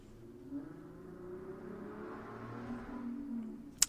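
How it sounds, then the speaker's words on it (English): Cars pass by outside, a faint, low rumbling swell of traffic that builds and fades in the background, ending with a brief sharp click. "Sorry for the cars."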